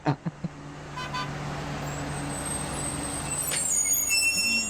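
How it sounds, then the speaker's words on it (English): A bus pulls up outside, its engine a low steady rumble with a tonal drone, preceded by a few sharp knocks, rising slightly as it nears and ending with a hiss of air brakes at moderate distance. "I hear Mr. Sergeant is pulling up in his bus outside"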